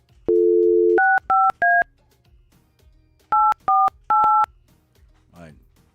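A phone dials out to a radio show guest: one longer tone, then three quick keypad beeps, a pause, and three more clean DTMF beeps, loud and close, with brief speech-like noise at the end.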